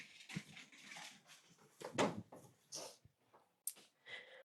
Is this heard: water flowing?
no